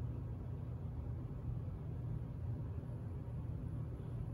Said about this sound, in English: Takes off nice and smooth with that big coreless motor